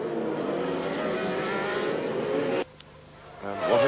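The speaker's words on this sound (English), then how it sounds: "Tremendous train of cars." A line of Formula 1 race cars at the 1990 Canadian Grand Prix in Montreal roars past in a sustained high-revving whine that cuts off abruptly, then another car's engine rises, with a commentator talking over it.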